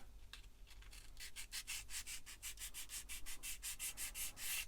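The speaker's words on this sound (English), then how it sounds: "I'll give them a little sand." Sandpaper is rubbed over the vents of a Bandai Star Wars 1/144 AT-AT model kit in close, rhythmic back-and-forth strokes, about twenty short rasps that grow quicker and louder toward the end.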